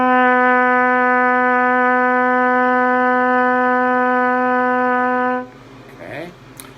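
A trumpet holds a single steady C sharp for about five seconds, bright and loud with no other sound, then cuts off into quiet room noise with a faint breath or shuffle.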